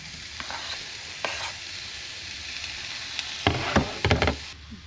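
Jalapeno, onion and tomato sizzle steadily in a hot pan, with a few sharp clinks and scrapes of stirring near the end and no talk.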